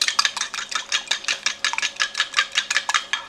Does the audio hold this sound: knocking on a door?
no